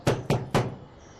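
Three sharp knocks on a door, evenly spaced and close, each a solid wooden rap, followed by a quiet room.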